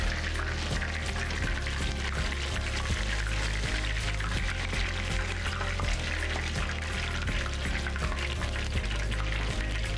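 Hot oil drains off a freshly fried cod fillet, making a steady loud pouring and trickling hiss that runs without pause, near and alone with no voices.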